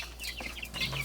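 Chickens in a school coop cluck and chirp in quick overlapping calls over steady background noise, fairly close by.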